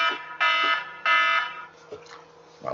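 An alarm clock set for getting up for work goes off in two loud, steady electronic bursts, each about a third of a second long, followed by quieter rustling and a faint voice.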